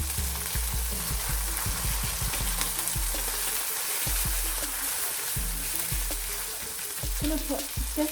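Oil sizzles and crackles steadily in a hot pan while a simple meal of turkey steak and bell peppers with couscous is cooked, with a dense, continuous frying hiss and occasional pops and stirring clatter, close up, with no talking.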